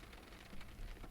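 Steady rain falling on a road at night, a dense, even hiss with faint patter, fairly quiet and continuous with no voices.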